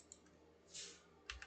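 Soft, faint typing on a computer keyboard at a desk, a few sparse key clicks with a brief cluster of taps near the end.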